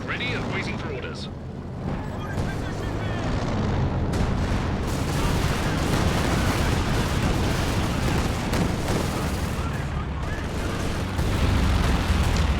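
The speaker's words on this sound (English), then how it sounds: "So I missed a couple of the Calliope shots" Calliope rocket artillery barrages in the video game Company of Heroes 2, dense rumbling explosions and booms rolling continuously over battle noise, loud and sustained, with a voice talking over them.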